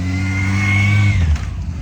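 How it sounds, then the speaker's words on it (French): A motorcycle passes close by on a street, its engine droning loud and steady before fading away, with no talking during the pass. "Attends, on va laisser passer la moto."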